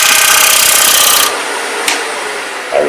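A lathe tool takes a fine cut in spinning wood, riding the bevel for a loud, even rasping hiss that stops abruptly partway through, followed by a brief scrape and a light knock, with no talking.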